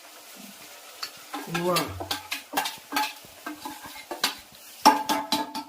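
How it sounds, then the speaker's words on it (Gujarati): Tomatoes go into a hot pan for a gravy for bharela baingan sabji, followed by repeated scraping stirs and clinks of a spoon over a soft sizzle, with a brief spoken exclamation. "હવે ટમેટા નાખી દઈએ. ટમેટાની ગ્રેવી."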